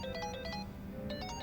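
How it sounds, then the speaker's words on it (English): A phone in the video game Like a Dragon: Infinite Wealth rings with a bright, repeating electronic ringtone in short melodic bursts, clear and fairly close, with no talking. "Your phone's ringing."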